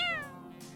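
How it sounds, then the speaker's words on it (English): A single close cat meow from the video game Heart Cage, bright and drawn-out with a falling pitch, heard alone with no talking. "Oh, here's the bad kitty."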